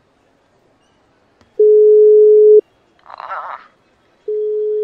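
Telephone busy signal from a failed call, a steady loud tone that stops, then a brief muffled noise before the same tone returns; a single short exclamation is heard.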